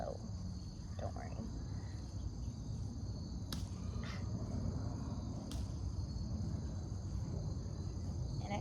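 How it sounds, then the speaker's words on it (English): A cricket chirps steadily in the background indoors, a faint continuous high trill running under low room noise and a couple of sharp clicks. "That's a cricket."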